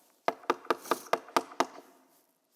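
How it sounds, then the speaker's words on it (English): Seven sharp knocks on a door come in an even, quick sequence, fairly close and clear, followed by silence and one faint final tap. "Knock on the door."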